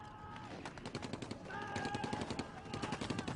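Rapid bursts of machine-gun fire with tracer bullets during a Korean War night attack on an infantry company, quick rattling volleys repeating steadily, fairly distant and faint.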